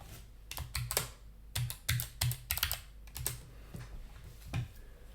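Rapid bursts of close keystrokes on a computer keyboard, clustered clicks separated by short pauses, quiet and alone without talk.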